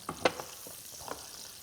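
Onions fry in a pan with a quiet, steady sizzle, broken by a few sharp crackles and pops near the start and a softer spatter later, with no talking.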